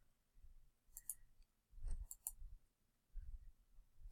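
Sharp mouse clicks on a computer during a GeoGebra geometry lesson, a few quick clicks around the one- and two-second marks, close and fairly quiet over low room noise.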